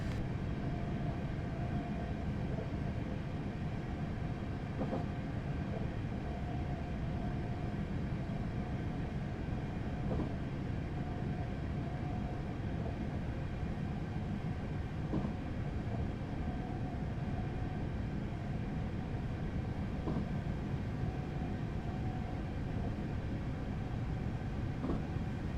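A Class 444 electric train climbs a slight uphill grade in Train Simulator 2015, giving a steady low rumble of traction and rail noise with a faint tonal hum that holds through the whole stretch, with no talk over it.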